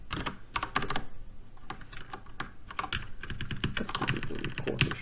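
Someone types on a computer keyboard while writing code, producing brisk, irregular clusters of close, crisp key clicks with brief pauses. No one speaks.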